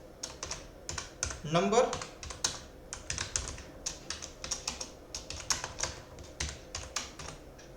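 Steady, rapid keystrokes clatter on a computer keyboard in an uneven rhythm while code is entered, close and clear throughout, with someone speaking in Hindi over the typing.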